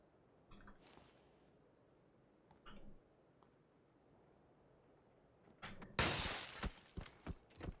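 Glass shatters in PUBG, a few faint crunches early on followed by a loud burst of breaking glass with scattered sharp pieces tinkling after, in otherwise quiet surroundings.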